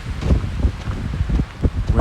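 Gusty wind buffets the microphone during an outdoor walk in Regina after a snowstorm, a loud, close, uneven rumble swelling and easing in waves.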